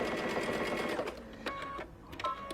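A sewing machine stitches a seam in a steady, rapid mechanical whir that pauses briefly and then resumes in short bursts, close and fairly quiet.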